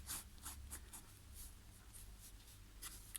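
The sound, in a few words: light pen sketching with a Parker Vector pen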